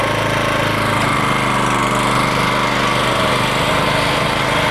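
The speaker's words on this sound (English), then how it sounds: "there is nothing like mowing with sharp equipment" A Toro Greensmaster 1600 walk-behind greens mower runs at close range, its small engine droning loud and steady with a fine rhythmic reel chatter underneath, no voices.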